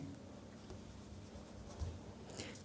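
Chalk or marker scratches across a board during a Hindi lecture on the endocrine system, a faint, steady scrawl of short strokes with no talking.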